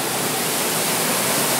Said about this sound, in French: Une jolie petite cascade qui suit une faille transversale à celle-ci